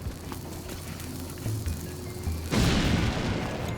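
A bomb blasts open a wall in The Legend of Zelda: Link's Awakening, giving a single booming explosion partway through that lingers as a loud, noisy rumble after quieter game sounds.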